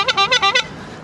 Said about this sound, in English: if anyone gets in my way, I can give them a good honking